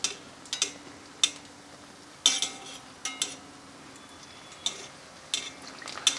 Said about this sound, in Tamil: இப்போ ரொம்ப அழகா இது வடை வந்து தயாராகிட்டு இருக்கு